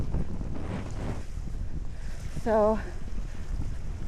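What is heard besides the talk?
wind blowing by a river while hiking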